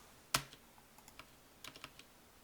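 Computer keyboard keys pressed during plugin editing work: one sharp, loud keystroke, then a scatter of lighter, quicker taps, with a small flurry near the end, close up in a quiet room.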